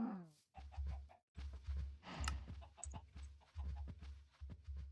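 A Malay chicken in a modded video game gives a string of short, low clucks in uneven bursts, separated by brief gaps, heard close and fairly quiet.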